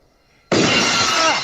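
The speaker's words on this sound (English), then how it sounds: "Will just blasted his ears out with the Stone Cold Glass Shatter" A loud glass-shatter sound effect for Stone Cold Steve Austin's entrance bursts in after a moment of near silence, an abrupt and sustained crash that fills the space at full volume.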